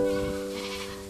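Goats bleat in a wide yard where they are being rounded up and loaded onto a vehicle, one clear, wavering cry close by that sustains and fades over about a second.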